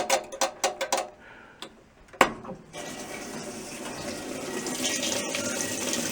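A 1989 Whirlpool washing machine starts a short wash with a quick run of loud mechanical clicks and a sharp knock. Then water rushes in as a steady, hissing fill that grows slightly stronger.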